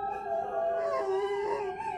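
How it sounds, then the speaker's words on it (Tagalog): Dogs howl together in long, wavering, overlapping cries, close and steady across the whole moment, with no voices. "Mga asong umaalulong."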